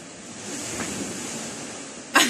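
Steady wash of sea waves rolling in with the incoming tide, a continuous broadband surf roar with wind, ending in a sharp close crackle of handling noise.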